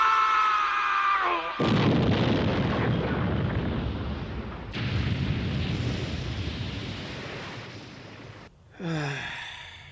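An energy blast from the anime Yu Yu Hakusho: after a short vocal cry, a long roaring, rushing burst of power surges loudly, swells again midway, then cuts off before another brief vocal shout.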